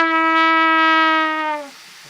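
A trumpet holds a steady F sharp with a relaxed, loose embouchure, then the pitch sags downward in a bend and the tone collapses and dies out after about a second and a half, played alone with no talk.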